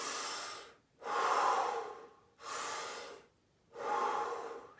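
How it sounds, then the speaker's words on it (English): Slow, heavy breaths drawn in and pushed out through a soft open mouth, four long airy passes in a steady in-out rhythm, close and fairly loud with short pauses between them and no talking. "There is a difference between breathing through the mouth like this"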